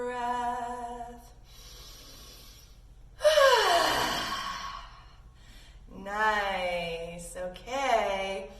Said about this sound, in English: sit up tall, take a deep breath